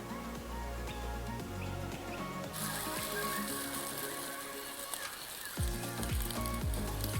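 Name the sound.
toasted sandwich sizzling in sandwich press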